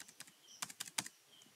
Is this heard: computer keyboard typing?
yes